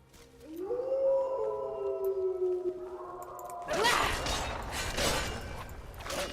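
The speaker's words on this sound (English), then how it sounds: "it sounds like we have lots of wolves in here" Wolves howl in the video game Don't Blink, long gliding wails that overlap and drift downward, followed by a louder burst of harsh, noisy game sound.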